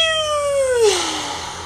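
A man imitates a cat's meow with his voice, a single drawn-out, nasal mew that slides downward in pitch and trails off into breathy noise, close and fairly loud with no other talk.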